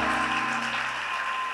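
A church congregation claps steadily in a dense, continuous burst of applause at a healing service, close and fairly loud, with no talk over it.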